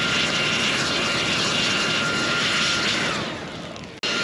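A Toro gasoline engine runs loud and steady with a dense, roaring drone, close by, then the sound dips and cuts off abruptly before a brief restart near the end.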